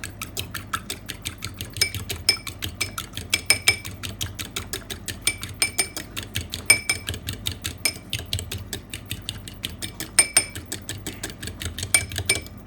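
Whisk beating champagne and oyster liquid together in a bowl, a fast steady run of light metallic clicks and taps for several seconds with no talking.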